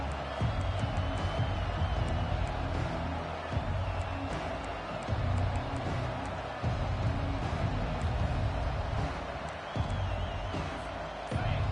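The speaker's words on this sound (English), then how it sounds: "This crowd trying to make life miserable for this offense." A stadium crowd in the NCAA 25 college football video game roars in a continuous wash of cheering with swelling surges, mixed under a commentator's voice throughout.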